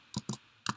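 Three short bursts of computer keyboard typing, close and fairly quiet, with brief pauses between the clusters of keystrokes.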